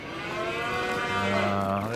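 Friesian and Jersey cattle in the Farming Simulator 25 video game let out a single long, drawn-out moo that is loud and clear, with no talking over it.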